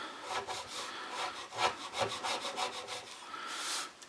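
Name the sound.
chisel slicing wood flush on a chair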